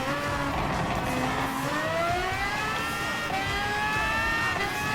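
Red Bull X2019 race car in Gran Turismo Sport accelerating hard, its engine note climbing in steady rising sweeps through the gears, loud and continuous throughout.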